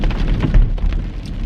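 Heavy rain pours down outdoors in a dense, continuous hiss with scattered louder drops and a low rumble underneath, no voices present.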